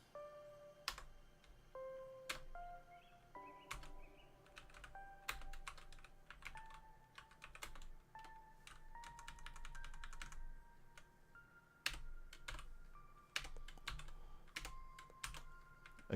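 Steady computer keyboard typing, a long run of crisp key clicks in uneven bursts with brief pauses, fairly close and alone, over faint background music.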